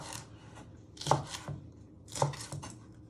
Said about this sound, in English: And you want to finely slice them, but always be careful you don't chop yourself on your sharp knife.